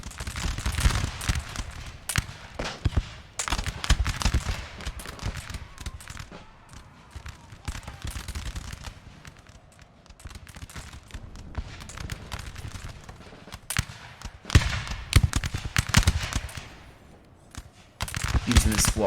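Musket volleys crackle in the Napoleonic-era strategy game Napoleon: Total War during a 4v4 town battle, with dense, irregular popping and rolling fusillades near and far throughout, and speech woven in.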